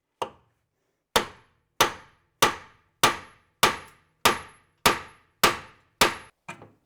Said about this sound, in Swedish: Så att det vi får göra nu är ju att slå lite på sidan här då, här uppe, akta damasken.